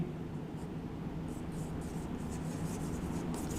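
Chalk or marker scratching steadily across a board as a lecturer writes during a biology class on neural control and coordination, close and continuous with soft rubbing strokes and no talk.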